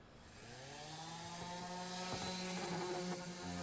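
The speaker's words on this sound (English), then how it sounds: "we'll just use the sander to sand it all down" An orbital sander runs against a metal CB radio case, a continuous buzzing motor whine that rises and holds steady with a rough, gritty edge, close and fairly loud, with no talking.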